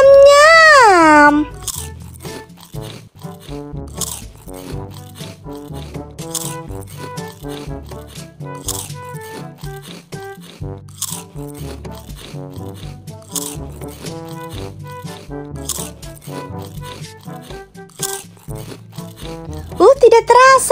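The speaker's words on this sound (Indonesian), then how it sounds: "Sekarang aku mau makan cikinya dulu ya" A child munches crunchy corn chips (ciki jagung), with crisp, irregular crunches and bites repeating close to the microphone; a voice is heard at the start and again at the end.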